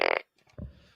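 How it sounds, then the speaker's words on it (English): Fart gun sound effect fired as a mock salute, a short buzzy blast followed by a lower, wet sputter, brief and fairly close with no talking. "Fart gun salute."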